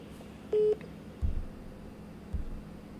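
A single short telephone keypad tone sounds while a call is being redialed, followed by two soft low thumps, against a quiet background hum.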